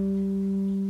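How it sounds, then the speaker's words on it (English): A single low G note rings on a ukulele, a clear sustained tone held steadily for just under a second with no voice over it. "we're going to play the low G note"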